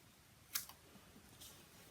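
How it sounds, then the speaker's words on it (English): Scissors snip through paper, trimming away a red border from a card: a single crisp cut near the middle followed by a lighter snip, then a softer one, all close and quiet against a faint room hiss. "I am going to use my scissors and just trim out the hello part"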